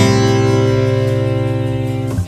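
A single acoustic guitar chord rings out, fretted at the second fret of the second string with open strings below, sustaining and slowly decaying for about two seconds before a faint scrape at the end.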